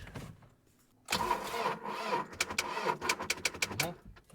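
A Ford van's engine cranks weakly on a dying battery, a loud, uneven churning starter that labours for a few seconds without catching, after a brief quiet moment.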